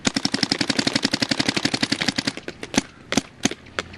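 Rapid close-range shots from a DYE DSR+ paintball marker run in a fast even burst, then turn irregular and sparse as the gun runs low on air. There is no talking.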